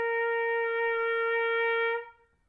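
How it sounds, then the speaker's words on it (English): A regular B-flat trumpet sounds a single sustained tuning note, a bright, rich tone held steadily for about two seconds before stopping cleanly and leaving a short fading tail. "when you play your tuning note on a regular B-flat trumpet, which looks like this, it will sound like this"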